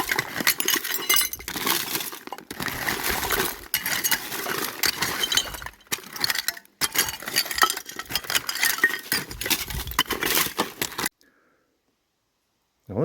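Glass perfume bottles clink and clatter as hands dig through a mountain of trash for old bottles, giving dense, scrappy rattling and knocking in bursts, then stopping abruptly into near silence.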